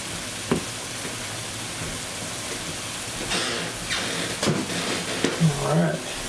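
Food frying in a pan gives off a steady hissing sizzle, with brief stirring clatter and a short murmur of speech near the end.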